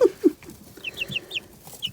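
Newly hatched chicks from an incubator give a run of short, high peeps and chirps that repeat unevenly, alongside a couple of lower clucks, fairly close and quiet against soft background noise.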